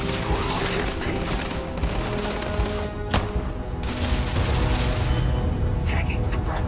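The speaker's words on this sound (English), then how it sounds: "Taking suppressive fire." Sustained rapid gunfire from a sci-fi shooter battle in Starfield, dense overlapping bursts and booms filling the mix continuously, with game voices talking underneath.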